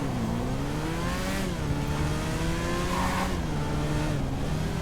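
The engine of the Oppressor flying motorbike in GTA Online drones continuously, a steady, loud whine whose pitch rises and falls with the throttle, with no voices over it.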